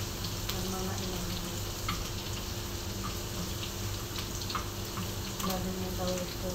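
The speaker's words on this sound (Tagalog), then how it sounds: "sibuyas na lang ang luto natin" Onions sizzle and crackle steadily in a hot pan, a continuous close frying hiss with faint clinks, and no talk over it.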